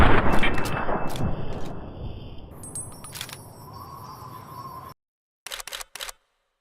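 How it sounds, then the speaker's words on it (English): Loud close gunfire in Fallout New Vegas while shooting bugs, a heavy blast fading into a long decaying rumble with sharp metallic clicks, then silence broken by a few brief shots. "More bug killing with guns"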